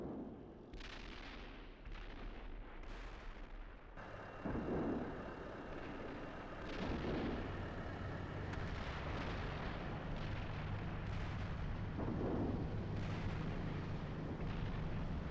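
Enemy artillery smoke rounds landing in the tank simulator Steel Beasts Pro: a run of heavy, rumbling impacts and bursts at mid distance, a few seconds apart, over a steady low engine-like drone.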